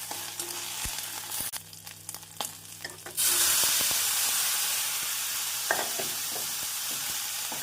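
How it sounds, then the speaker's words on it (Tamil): Cauliflower frying with onions in a pan for poriyal, scraped and stirred at first, then a sudden loud, steady sizzle and hiss as it hits the hot oil, close and continuous. "காலிஃப்ளவர் சேர்த்து நன்றாக வெங்காயத்துடன் கிளறி"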